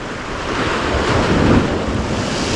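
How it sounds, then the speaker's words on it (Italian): Open-sea waves washing against a rocky pier in Naples, a loud continuous surging wash with heavy wind buffeting the microphone, no voices. "Siamo proprio in mare aperto."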